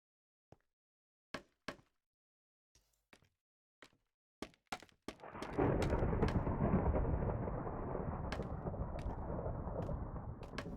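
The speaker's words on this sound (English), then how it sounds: "Thunder and lightning again." Minecraft thunderstorm: several sharp separate cracks, then a loud thunder roll that swells and keeps rumbling over the following seconds, no voices.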